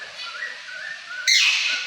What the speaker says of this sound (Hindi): हमारी वीडियो में मैना बात कर रही है